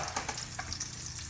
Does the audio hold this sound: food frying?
yes